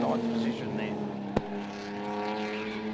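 HQ Holden race cars on track at One Raceway in NSW, engines droning steadily with a sustained tonal hum, one brief sharp knock midway, while a commentator talks over them.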